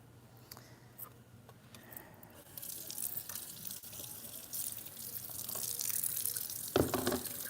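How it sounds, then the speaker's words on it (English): A lionfish fillet is swished and rinsed in a bowl of water with lemon juice, giving soft splashes and trickling that grow busier midway, with a louder slosh near the end and a low background hum. "it just goes into my bowl of water with a sprinkle of lemon juice"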